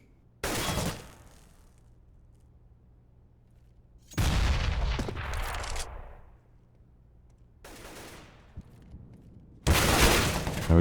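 AK rifle fire in Counter-Strike: Global Offensive on the Mirage map, with several separate loud bursts of shots and impacts spread across the span, broken by quiet gaps.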